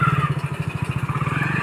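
A motorcycle engine started by a young rider named Bittu runs at a steady, loud, close idle with a fast pulsing throb that holds for about two seconds, with no talking over it.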